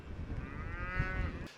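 A single English Longhorn cow lets out one long, low, steady moo close by, standing in a field with the herd, with no talking over it.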